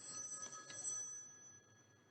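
A telephone ringing with an incoming call in an indoor room: a bright, steady electronic ring at moderate-to-faint level that holds for about a second and then fades out, with no voices.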